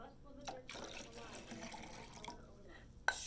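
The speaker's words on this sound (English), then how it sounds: "Then we're going to add about 2 cups water." Water is poured into a pitcher while making Brazilian lemonade, a steady splashing trickle that runs for about two seconds before it stops, with a voice talking over part of it.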